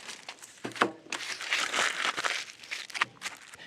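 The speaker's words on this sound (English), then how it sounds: "you wrap it in aluminum foil, shiny side out" Aluminum foil crinkles and crackles as it is wrapped around a shallow paving brick, close and irregular, with sharp crumpling bursts and a busy stretch in the middle.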